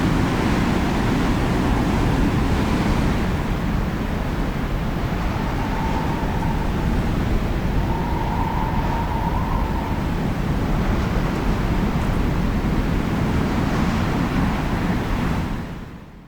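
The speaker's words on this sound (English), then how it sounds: "When the wind blows like that" Strong wind blows across utility poles and their conductors in extreme weather, making a loud, steady rushing roar that holds for many seconds before fading out at the very end.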